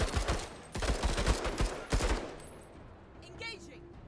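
Rapid bursts of gunfire in the turn-based tactics video game MENACE, dense and loud for about two seconds, then trailing off into quieter game ambience with a few faint tonal effects.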